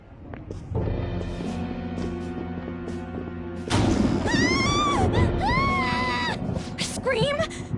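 A thud and a distorted, wavering scream ring out in a Persona 5 Royal game scene, the cry rising and falling in pitch several times over a low sustained background tone.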